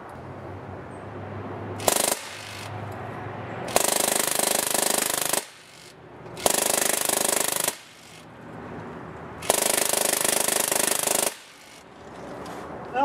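A motor-driven Drozd Blackbird BB gun fires at bottles in long sustained bursts of rapid buzzing shots, four or five runs broken by short gaps, loud and near.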